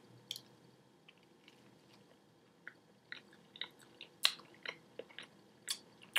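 Someone bites and chews toast spread with butter and Vegemite, making quiet, close, irregular crunches and wet squishy chews spaced across the moment, with no speech.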